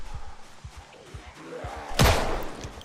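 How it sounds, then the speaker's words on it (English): Zombie banging on a door in Project Zomboid, a few soft thuds followed by one loud, sharp slam close by, with no talk over it. "I'm hearing someone bang on my door"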